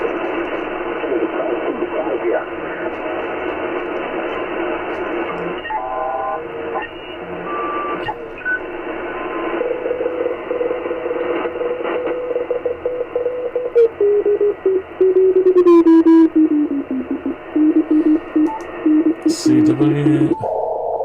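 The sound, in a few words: Morse code (CW) received on HF amateur radio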